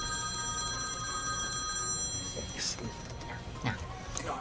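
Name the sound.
doctor's telephone ringing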